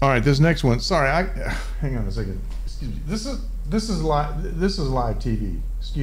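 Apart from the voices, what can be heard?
None of the usual background noises is heard.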